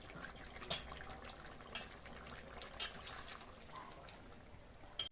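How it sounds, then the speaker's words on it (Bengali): A thin fish curry of small pond-caught mourola fish with potato and pumpkin simmers in a pot, making a faint, steady bubbling hiss with occasional sharp pops and clicks. "মাছগুলো দেওয়ার পরে ঝোলটা একটু ফুটে গিয়েছে"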